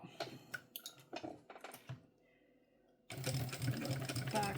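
A sewing machine runs steadily through thick backpack fabric, a loud continuous stitching whir that starts abruptly after some brief clicks and handling noises at close range.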